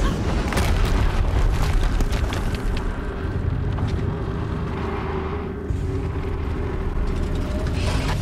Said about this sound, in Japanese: 爆発音やべえの。